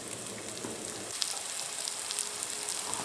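Coarsely chopped garlic frying in olive oil in a pan, a soft steady sizzle with fine crackling pops, close and continuous.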